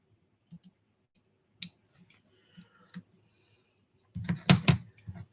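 Scissors snip a paper stencil to straighten a curved edge, giving a few sparse, close clicks and cuts separated by quiet gaps, then a quicker cluster of crisp snips at the end.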